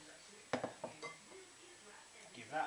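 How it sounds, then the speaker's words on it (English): Beef is stirred through its marinade in a pan, giving a few light metallic clinks and scrapes up close, with quiet speech faintly under the sounds. "give that a good mix around"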